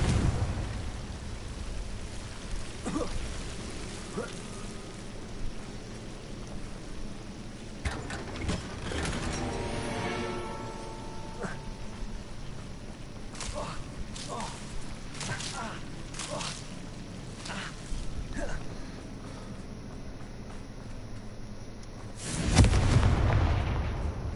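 A Confringo blasting spell goes off in the Hogwarts Legacy video game, bringing scattered booming impacts and bursts over a low rumble, with a heavy blast near the end and a player's voice speaking at times.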